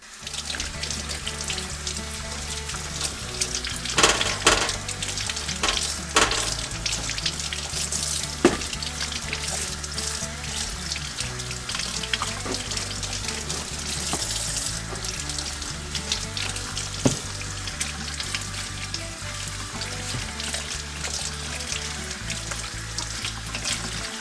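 Tap water runs steadily into a kitchen sink while a tromboncino squash is washed under it, with occasional clunks and splashes as it is handled, close and continuous.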